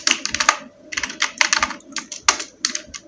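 Rapid, uneven bursts of clicks from a computer keyboard as a name is typed into Microsoft Word, close and clear with short pauses between keystroke clusters and no voices.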